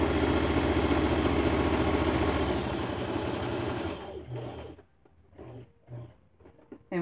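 A sewing machine stitches along a marked line on a quilted pot holder, its rapid, steady motor chatter running for about four seconds, then stopping, followed by a few faint handling sounds.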